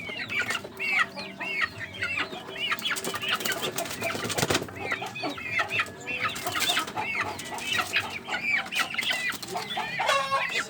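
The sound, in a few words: sick chicken with a cold, wheezing and clucking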